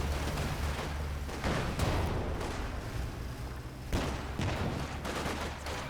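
Bursts of coaxial machine-gun fire from a Puma armored car in Company of Heroes 2, rattling in repeated volleys amid other battlefield gunfire, moderately loud and continuous across the clip.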